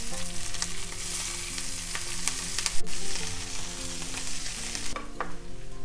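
Kangaroo sausages fry in a hot pan with a steady, loud crackling sizzle that runs continuously, with a few sharper pops and stirring scrapes and no voices.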